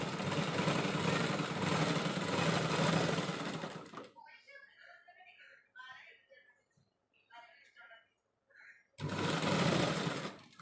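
Sewing machine stitching a princess-cut blouse, a loud, fast, continuous whirring run that stops while someone talks, then starts again near the end.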